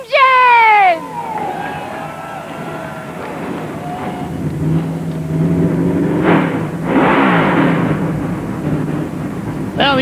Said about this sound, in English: Now the engines are coming alive